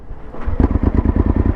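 Suzuki V-Strom motorcycle engine firing up on a mountain road, a low rumble that starts and settles into a loud, close, rapidly pulsing idle.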